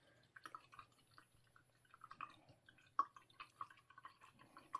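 A paintbrush being rinsed of orange paint in water, with faint, close, irregular drips, splashes and small trickles at low volume.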